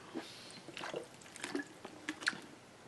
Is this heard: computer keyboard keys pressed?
no